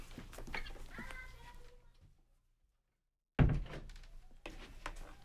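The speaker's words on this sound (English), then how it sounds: "close the door because the family's home and that's gonna be loud" A door shuts with a single solid thunk after a moment of silence, close and fairly loud, with someone talking before and after.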